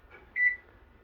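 One short, clear electronic beep from a kitchen oven timer being set for baking a keto taco casserole, close and isolated in an otherwise quiet room.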